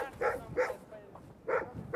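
A dog barks in short sharp bursts, three loud barks in quick succession with a pause before the last, during a special operations search.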